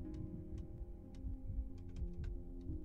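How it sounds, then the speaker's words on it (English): Heartbeat effect from the zombie survival game Cataclysm: DDA, a steady low thumping pulse repeating continuously at a calm pace, with faint ticks and clicks scattered above it. "my heartbeat has slowed down, meaning there are fewer zombies around"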